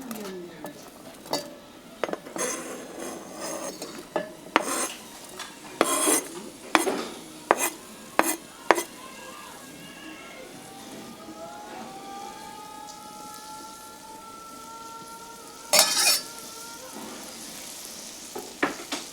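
Minced garlic and onion sizzle softly in a pan under repeated sharp clinks and scrapes of a utensil stirring, close and steady, with a quiet voice at moments.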